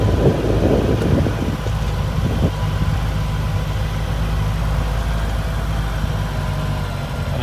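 A 2025 CF Moto UForce U10 Pro UTV engine running as the vehicle drives around, a steady loud low rumble with a few brief rattles and knocks early on, no talking.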